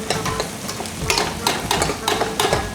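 Small onions sauté in a hot pan for fish curry, a steady loud sizzle broken by repeated scraping stirs of a spoon against the pan.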